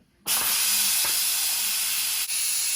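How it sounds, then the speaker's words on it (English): A pressure cooker venting steam during quick release while cooking meatless stew peas: a loud, continuous hiss that bursts on abruptly and stays steady, with faint dull knocks underneath. "You're trying to let it cool down quickly, so you're letting out steam"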